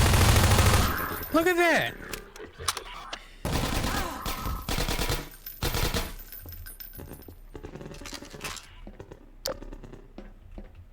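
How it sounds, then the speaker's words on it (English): Automatic gunfire from Half-Life 2 Episode 1, a full magazine emptied in dense bursts of loud, rapid shots spread through the clip, with game effects and brief talk between volleys. "I've got to empty pretty much a full mag into these dudes."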